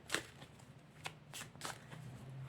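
Oracle cards being shuffled by hand in a quiet room, a few soft riffling bursts spread through the clip over a low background hum, with no talking.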